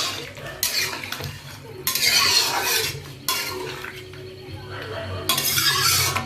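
Potatoes are stirred into a Bengali mutton curry in a metal pot, with repeated loud scraping and clinking strokes in bursts over a low simmering hum.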